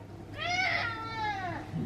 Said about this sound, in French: Regardez on a un chat qui s'approche de Pacha.